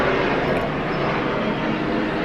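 Airplanes flying overhead outdoors on a summer day, a steady broad roar that holds at an even level throughout, with no voices.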